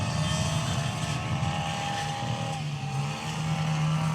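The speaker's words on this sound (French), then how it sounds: "Le moteur, il a l'air de saturer trop vite." Motorboat engine running at high revs out on the water, a steady loud drone with a sustained tonal whine and slight pitch shifts, no talking.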